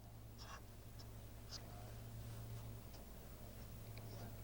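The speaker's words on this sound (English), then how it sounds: "go in with the marker and finish off the drawing" A marker pen squeaks and scratches across paper in short, light strokes while a caricature is drawn, close and faint against a quiet hum.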